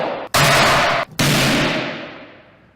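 A courgette bursts apart under a 3,000-joule capacitor discharge: a sharp, loud blast, a brief gap, then a second violent crack that decays into a long hissing, crackling tail, with no voices.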